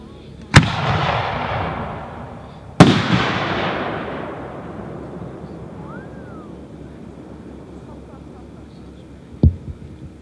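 A Vulcan 3-inch Pixie Dust aerial firework shell bursts with two loud booms, each followed by a long fading crackle and rumble outdoors, then a smaller distant pop near the end.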